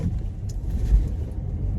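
Interior car rumble while driving, a steady low engine drone and road noise with small swells, close and fairly loud, no talking.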